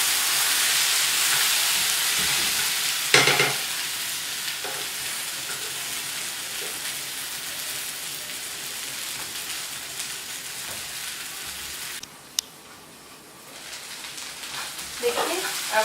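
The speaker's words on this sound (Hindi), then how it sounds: "अब हम बीच बीच में इसे चलाते रहेंगे 2 मिनट ऐसे बीच में, ताकि हमारा भिंडी नीचे से ना लग जाए।" Okra (bhindi) fries in a pan with a steady, close hiss and sizzle, broken by a few scraping stirs and brief clinks as it is turned, continuous throughout with no talk.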